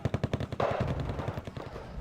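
Rapid machine-gun fire from an M1 tank in a war strategy video game, a quick burst of sharp repeated shots followed by a denser rattling stretch.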